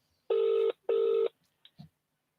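A telephone call rings out with two even, buzzing ringback tones of about half a second each. A few faint clicks follow, as though the line is being picked up. No one speaks.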